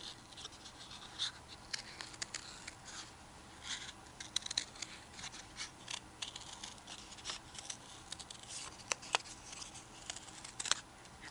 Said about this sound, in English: Cutting out this circle.